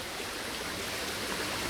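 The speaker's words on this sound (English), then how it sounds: "So the whole idea is for the water to flow with hardly any restrictions" Water runs freely through a channel where a tree once stood, a steady close rushing with no breaks and nothing else heard.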